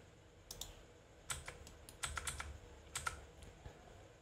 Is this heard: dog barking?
no